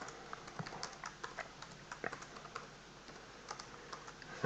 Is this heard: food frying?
no